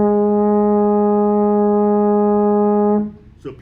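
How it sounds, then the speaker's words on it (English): A baritone horn sustains a single steady A flat for about three seconds, a full brassy tone held evenly, then cut off, followed by a brief faint noise. "It's called A flat. It's fingered first valve, and it sounds like this."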